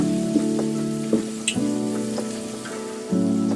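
Chopped tomato sizzles in hot oil in a frying pan alongside eggs, a steady crackling hiss broken by a few soft clinks and stirring knocks. The sound is close and unbroken, with no talking.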